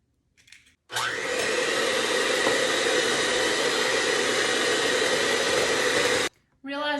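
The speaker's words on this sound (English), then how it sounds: "Realizing now it's probably unnecessary to beat the egg with an electric mixer, but we're going for it." An electric mixer whirs steadily at full speed for about five seconds while beating an egg for a homemade pumpkin pie, loud and close, starting and stopping abruptly, with brief murmurs at either end.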